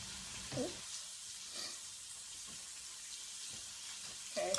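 Chorizo frying in a pan, a steady broad sizzle running throughout at moderate level, with a few faint clinks and stirs.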